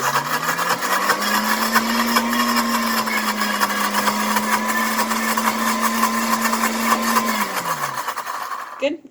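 A blender runs steadily with a lid on, whirring Thai peanut dressing made with canola oil for a cabbage salad, then winds down at the end.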